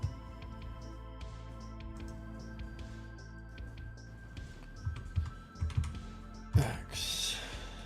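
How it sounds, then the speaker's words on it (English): Keys clatter on a computer keyboard in a steady run of close clicks, with a louder cluster of taps and a sharp burst near the end. "Oh, I keep typing on the wrong keyboard here."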